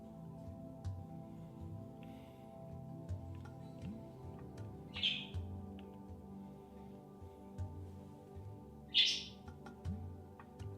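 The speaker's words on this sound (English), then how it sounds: "The birds agree." Birds chirping in the background, faint with a couple of brighter, clearer tweets standing out over a low, steady hum.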